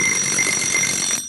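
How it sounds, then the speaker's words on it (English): An electronic alarm rings steadily with high, piercing tones for just over a second, then cuts off abruptly. "Oh, there's my alarm."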